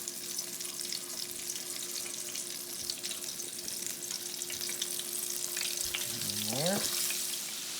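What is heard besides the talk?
flour-dredged chicken pieces frying in oil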